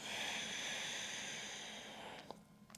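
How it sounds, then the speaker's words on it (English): A long airy breath pushed out during a yoga downward facing dog pose, steady and close for a couple of seconds before fading, ending with a faint click. "And breathe out."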